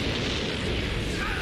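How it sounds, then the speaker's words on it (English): A dense, roaring explosion rumble from a Death Note anime episode fills the entire short stretch, loud and sustained rather than a single sharp bang. "An explosion?"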